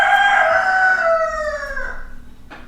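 A cockerel crows once close by, a loud drawn-out call that slides downward and fades, ending with a faint click.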